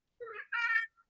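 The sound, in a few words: pet cat meowing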